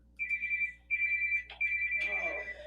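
A phone ringtone plays in three bursts of a steady electronic tone with short gaps between them, loud and close, with faint background noise rising at the end.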